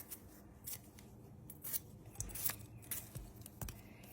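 A knife slicing washed little red potatoes into chunks produces soft, irregular crisp cuts and light knocks on a board, quiet and close, with no speech.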